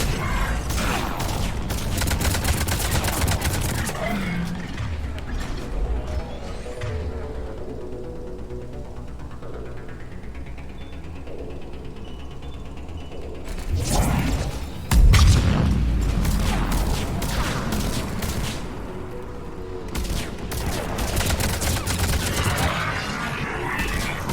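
Mass Effect 3 Legendary Edition combat with warp and concussive shot powers: booming impacts and mechanical whooshes over a steady din of game sound, with a heavy blast near the middle and continuous battle noise throughout.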